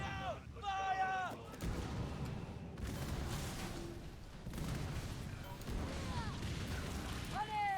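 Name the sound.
ship cannons firing in Skull and Bones video game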